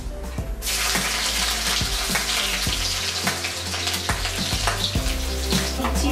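Chopped garlic drops into hot oil already holding black cumin, cumin, dried chilli and a bay leaf for a Bengali fish-head kochu saak dish, and it hisses and sizzles loudly, with intermittent stirring clinks in the pan and no voices.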